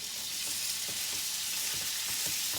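Mushroom and tomato sizzling in browned butter in a pan, a steady, dense frying hiss with faint stirring ticks throughout, no voices.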